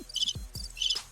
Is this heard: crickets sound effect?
yes